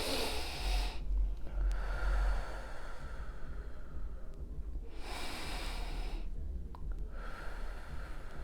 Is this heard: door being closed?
no